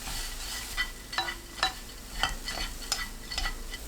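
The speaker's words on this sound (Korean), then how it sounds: "바글바글 완전히 끓으면 멸치 넣고 1분 볶습니다." Anchovies are stir-fried in a pan of boiling sweetened sauce made with cane sugar, giving a constant bubbling sizzle broken by repeated light scrapes of stirring, close and without talk.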